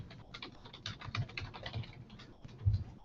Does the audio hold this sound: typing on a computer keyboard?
yes